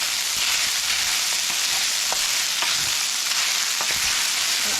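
Mushrooms and garlic fry in oil in a pan, a loud, close, continuous sizzle with occasional pops and crackles as the pan is swirled.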